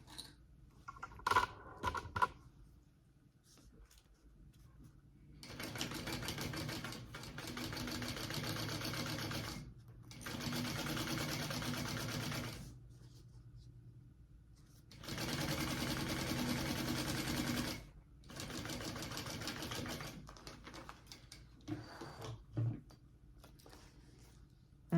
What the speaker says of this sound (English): we're going to clip that together and sew along that at our seam allowance